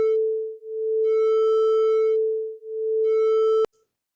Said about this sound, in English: And now the beat frequency is going to be half a hertz